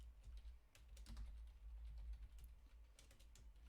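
Steady typing on a computer keyboard, a run of quick clicky keystrokes with uneven rhythm over a low background hum, close and moderately quiet.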